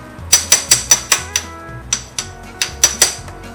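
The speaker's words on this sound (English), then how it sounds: "give this one a little impact tap just to" An impact wrench rattles in quick bursts while snugging the gear oil drain plug on an outboard motor's lower unit, with several sharp, close, evenly spaced hammering taps in short clusters.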